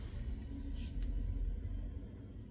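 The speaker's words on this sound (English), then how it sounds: "Shut up, garbage truck." A garbage truck rumbles outside: a steady, muffled low engine drone heard indoors, with a faint hiss or brake sound partway through.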